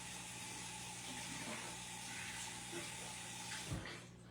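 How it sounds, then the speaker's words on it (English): Water runs from a kitchen tap as a spoon is rinsed, a soft steady hiss of flow with a brief clink near the end before the stream thins out. "I'm going to rinse this spoon off"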